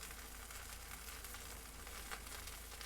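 A whole gulbi fish (dried yellow croaker) sizzles steadily on a grill, a continuous close hiss and crackle with no talking.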